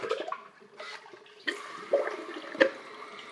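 A TOTO Aquia IV toilet with a top-button auto-flush fitting flushes after a button press, with sputtering gushes and gurgling water bursts that come in uneven surges, close by with no talking.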